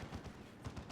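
Cannon fire in the strategy game Dawn of War 2 Retribution, a quiet series of quick repeated blasts, two clusters with a short gap between them, heard faintly behind the game's soundscape.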